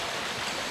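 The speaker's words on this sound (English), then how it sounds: "The water is running from the upper water passage." Steady rushing water pouring through an upper passage in the original Resident Evil, a dense, continuous loud wash with no break.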